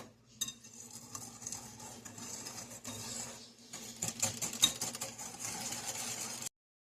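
Whisk or spoon stirring cake batter with milk and vanilla extract in a bowl, a continuous scraping swish with clinks, close and fairly quiet, stopping abruptly at the end.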